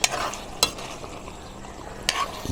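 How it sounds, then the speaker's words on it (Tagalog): Tofu and pork cook in oyster sauce in a pan as a utensil stirs them, with a few sharp clacks against the pan over a soft, steady sizzle. "Haluin natin minsan."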